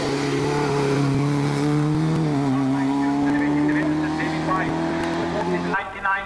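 David White's Porsche race car at a mountain hill-climb race near Ajdovščina, its engine droning loudly and steadily with shifting pitch as it accelerates, while a commentator talks over it.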